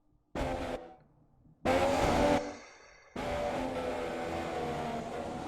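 Formula 1 car in F1 2017 at Circuit of the Americas, engine roaring in loud bursts that cut out and return, three separate surges with a sustained high whine at the end.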